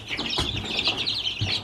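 Young poultry chicks and baby turkeys peeping and clucking, a busy chorus of high chirps close by, with a couple of louder calls standing out and no talking.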